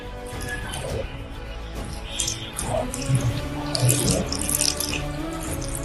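Water poured onto a freshly planted sapling in soil, a steady splashing trickle with gurgles and drips that grows slightly louder midway, heard alone without talk.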